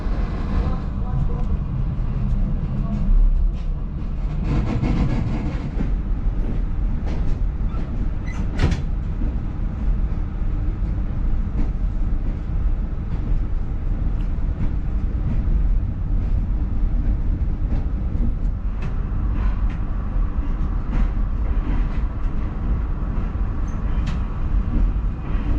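Kohat Express train: a steady, dense rumble that holds at an even level for the whole stretch, with occasional clatter and faint voices.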